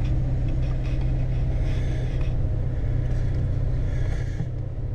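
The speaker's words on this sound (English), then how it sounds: "we want to run through the transmission gears to circulate the transmission fluid around in the transmission" A parked RV's engine runs steadily through its transmission gears, a continuous low rumble with a droning hum, close and even throughout with no talking.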